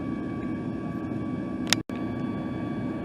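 An airliner takes off from Houston with a steady cabin roar and engine hum. A single sharp knock sounds partway through, followed by a momentary dropout.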